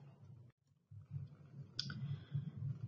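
A single sharp mouse click on a computer, heard once near the middle over a steady low background hum.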